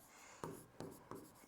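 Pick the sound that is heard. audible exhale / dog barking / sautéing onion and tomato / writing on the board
writing on the board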